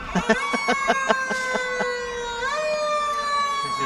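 Fire engine siren from Wilkes-Barre Township Rescue Engine 3 at a St. Patrick's Day parade, a loud wailing tone that rises and falls, with short horn-like bursts near the start and a steady sweep afterward.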